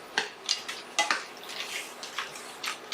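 A utensil scrapes the bottom of a pan while deglazing, making a series of short, rhythmic grating strokes about twice a second, close and fairly clear with no talk.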